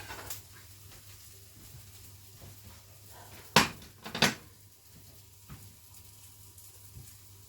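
A plate taken out in a home kitchen, two sharp ceramic clinks close together stand out over faint background hum, with a few softer knocks before and after.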